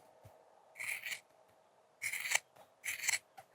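Rawhide for a rattle being cut in three short rasping snips, close and fairly quiet, separated by pauses of near silence.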